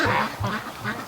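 A free-range duck quacks outdoors during a thunderstorm, giving three rhythmic, raspy quacks at close range with no talking.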